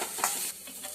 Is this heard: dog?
no